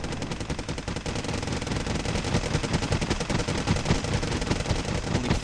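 Aircraft in the video game Wargame Airland Battle fire on Chieftain tanks: loud, dense, continuous machine-gun rattle with overlapping shots and no break.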